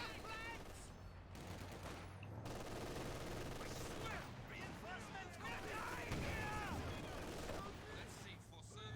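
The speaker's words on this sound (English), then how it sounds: "Small arms fire." Small arms fire rattles through a competitive real-time strategy video game match as scattered gunshot bursts and crackling volleys over a dense, continuous battle din, with voices talking over the action.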